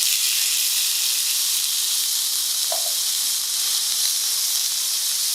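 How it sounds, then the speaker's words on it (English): Spam fries in vegetable oil, giving a loud, steady, close sizzle that holds without a break and with no talk over it. "Now you want to fry up your Spam while your rice is cooking."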